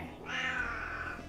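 Eagle, a pet cat, lets out a drawn-out complaining meow after being pushed over, a single close, moderately loud vocal cry.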